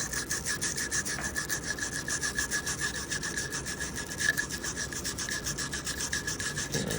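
A skinny brush scrapes carbon from an AR-15 gas tube in a quick, steady back-and-forth rasp, close and continuous, with no talking over it.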